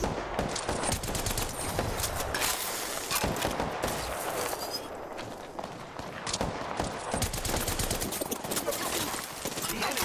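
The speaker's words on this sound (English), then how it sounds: "The enemies are shooting." Rapid bursts of enemy gunfire in Apex Legends crackle almost continuously, loud and dense with short pauses between volleys.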